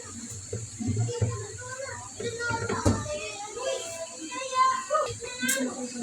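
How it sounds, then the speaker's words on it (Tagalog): Children playing and chattering outdoors in the morning, their overlapping voices and shouts rising and falling at a moderate distance, with occasional sharp clatters mixed in. "Ingay ng mga bata sa labas."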